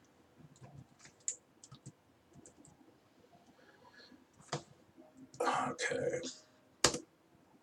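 Clicky computer keyboard typing in short bursts, growing louder toward the end, with a brief spoken word in between.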